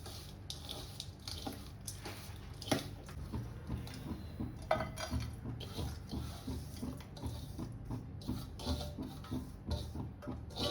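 Modak stuffing of coconut, jaggery and cardamom powder is mixed in a pan, producing soft, wet, repeated scraping and occasional utensil clatter at close range.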